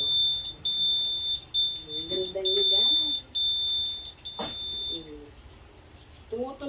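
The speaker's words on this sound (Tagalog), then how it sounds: "Tumutunog siya pag siya'y nababangga." Electric wheelchair's collision warning gives a steady, piercing high beep that runs for several seconds, close and clear, while people chat and exclaim softly underneath.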